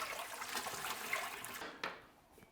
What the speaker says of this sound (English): Straight into the cold water. And leave that water running like that